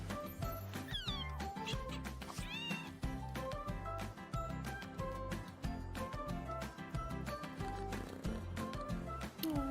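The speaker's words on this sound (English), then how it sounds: "An orange cat that was happy about being saved when you grab it spontaneously." An orange cat in a video game meows a few times, short rising and falling cries near the start, over loud, steady rhythmic game music with a driving beat that continues throughout.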